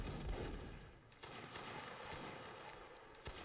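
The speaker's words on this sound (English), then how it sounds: "You can see here the Russian forces firing back." Ragged musket volley from a Russian line of infantry in a Napoleonic Wars line-battle game, a dense crackle of overlapping distant shots with a few sharper reports standing out against steady battlefield noise.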